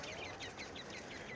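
Quail call from inside a fenced backyard enclosure with a rabbit hutch, a steady run of quick, repeated chirping notes, fairly close and moderately loud over a constant background hiss, with no talking.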